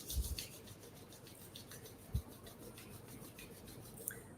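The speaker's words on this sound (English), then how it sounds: "Bringing the hands, rubbing the palms vigorously" Palms rubbed together vigorously during a Kundalini yoga self-care practice: a faint, quiet friction rasp with a few soft bumps, close and alone.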